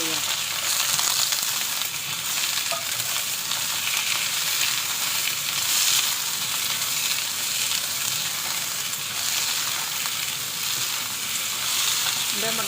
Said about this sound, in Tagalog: Luto na natin ang ating patatas hanggang sa mag-brown ng konti. Ito ilagay na natin ang ating luya.